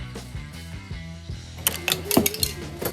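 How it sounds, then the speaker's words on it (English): A plastic trim remover tool prying a plastic cover out of a 2014-2019 Toyota Highlander tail light area gives short scraping clicks and snaps, with a louder cluster of cracks toward the end over a steady background hum. "I will be using a plastic trim remover tool to take out this plastic cover"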